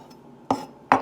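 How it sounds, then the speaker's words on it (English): Two sharp knife chops on a board cutting olives for a lentil salad, a quiet pause between them, the second strike slightly louder, close and without talk. "Chopping up the olives"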